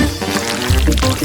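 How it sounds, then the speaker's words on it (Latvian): Pink pasta batter of eggs, milk and flour poured into a bottle in a kitchen cooking challenge: a close, loud, continuous pour lasting about a second, with no talking. "Tagad ielej mīklu īpašā pudelē."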